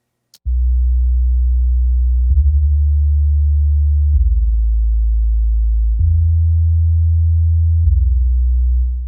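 A very low A note plays as a steady pure bass tone in a music production mix, sustained for several seconds with a few soft re-attacks, loud and alone.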